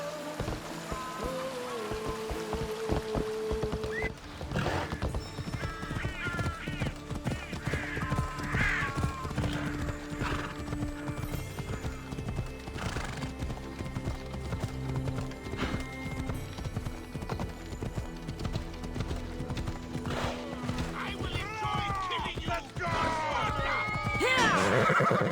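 A horse gallops with steady clip-clop hoofbeats and whinnies several times in the video game Assassin's Creed Odyssey, with game music and ambient effects running throughout.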